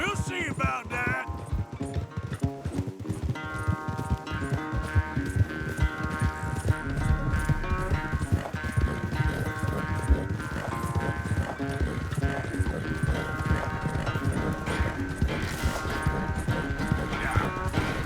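Horses gallop in a race in Red Dead Redemption 2, hooves pounding in fast steady clip-clop over a music score, with a brief whinny near the start.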